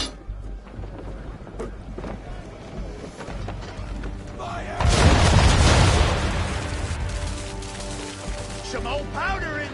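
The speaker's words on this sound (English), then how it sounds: "Now, aim all guns at her bow and do as much damage as possible." Ship cannons fire a heavy broadside at an enemy ship's bow during a naval battle in a PS4 game, a loud booming roar swelling midway over rumbling battle noise, with a voice speaking.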